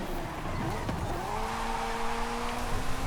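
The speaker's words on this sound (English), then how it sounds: "And a mild drift here." A car drifts through a corner in Forza Horizon 5, its engine droning loudly while a sustained tire squeal rises and stretches across the slide, steady and close with no talk.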